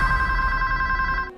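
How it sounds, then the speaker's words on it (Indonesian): A telephone rings with a bright, steady electronic tone that holds for just over a second and then stops, alone with no talk, as a sound effect in a ghost story set in a haunted hotel. "Raina seketika dikejutkan dengan suara dering telepon"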